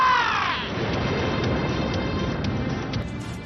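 Crow giving a short harsh caw at the very start, followed by a continuous rushing background noise.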